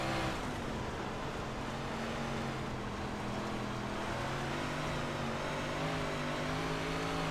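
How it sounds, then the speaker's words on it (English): Big Block Modified race car in iRacing on the dirt at Knoxville, its engine droning steadily at a loud, close, fairly even pitch for several seconds, slightly wavering as the throttle is held back on a slick track. "I don't want to get on the throttle too much in the slick."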